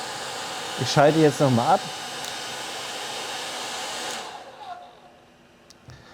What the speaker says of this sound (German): 1800 Watt hat hier der Föhn Maximalleistung.